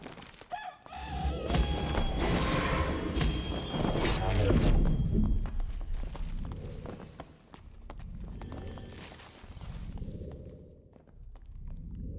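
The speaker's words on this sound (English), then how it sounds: "The goddamn chicken." Chicken clucking and squawking in the dark fantasy game Dark and Darker, heard among hoof-like clip-clops and game effects, with someone talking loudly over parts of it.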